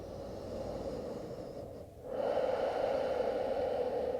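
Deep, slow breathing during a vinyasa yoga flow: a close, quiet breath in, a brief pause, then a fuller, airy exhale, heard alone.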